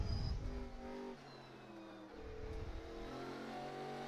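A V8 ute race car engine in a racing video game at Yas Marina revs and shifts through gears, harmonic engine tones dropping on a downshift and braking, then climbing again as it accelerates out of the corner.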